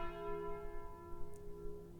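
A single deep bell toll from the game Slay the Spire rings out in a long, steady decay, fairly quiet and alone, with no voices over it.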